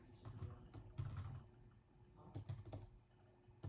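Typing on a 17-year-old iBook G3 laptop keyboard: quick bursts of soft, close key clicks with short pauses between them, fairly quiet and with no one speaking.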